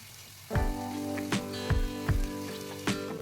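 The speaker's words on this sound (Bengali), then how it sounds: "এবার সমস্ত গুঁড়ো মশলাগুলো পেঁয়াজ আদা রসুন টমেটোর সাথে খুব ভালো করে কষিয়ে নিচ্ছি" Ground spices sauté in hot oil with onion, ginger, garlic and tomato for a chicken kofta masala, sizzling steadily up close with several sharp scraping stirs of a spoon in the pan.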